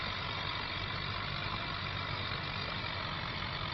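A tractor pulling a plough across a field in Farming Simulator 25 gives a constant, dense engine drone with heavy low rumble, steady and unbroken throughout.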